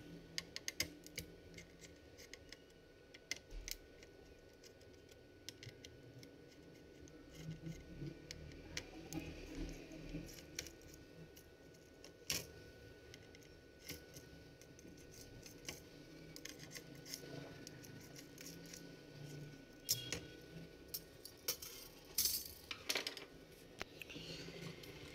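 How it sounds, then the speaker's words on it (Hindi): Small metallic clicks, taps and scraping from tools working on a laptop's heat sink as it is opened, an irregular sequence of close, faint ticks over a low room hum. "इसका हीट सिंक जो है ना ओपन कर लेंगे अब"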